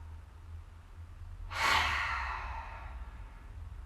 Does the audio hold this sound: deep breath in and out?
yes